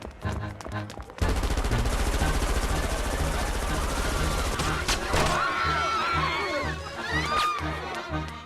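Gunfire in the video game Professor Layton and the Unwound Future, a sustained loud burst of rapid machine-gun shots after a short quieter lead-in, later thinning into scattered shots with whistling and ricochet-like tones.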